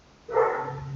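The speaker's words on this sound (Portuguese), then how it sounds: "Tem um cachorro participando aí." A dog barking at a neighbour's house, a single loud close bark breaking into an otherwise quiet room.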